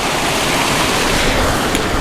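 River water pumped up into a koi pond gushes in a loud, steady, broadband rush, close by and continuous with no break.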